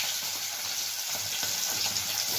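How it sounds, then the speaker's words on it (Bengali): Small potatoes fry in white oil in a wok with a steady, close, even sizzle and faint crackle throughout, no voices. "ছোট আলুগুলোকে কড়াইতে সাদা তেল দিয়ে হালকা করে আমি ভেজে নেব"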